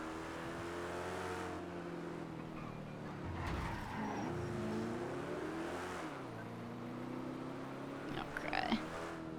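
A car driving in GTA NoPixel roleplay: a steady engine drone with shifting pitch as it revs and slows, a tire screech midway and a brief clatter near the end, heard clearly and at moderate level.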